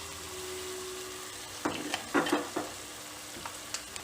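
Onions fry in oil in a pan for veg Manchurian, a steady low sizzle with a few scraping stirs and clinks of a spoon partway through. The sound is quiet and close, with no voices.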